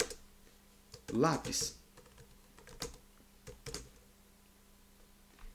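Someone types a file name on a computer keyboard in short bursts of close, crisp key clicks with pauses between them, and a person speaks briefly in between.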